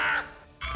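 A crow gives two harsh, rasping caws close by, the first a little longer, the second after a brief pause, alone and fairly loud.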